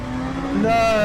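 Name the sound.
race car engine on throttle in video game Le Mans Ultimate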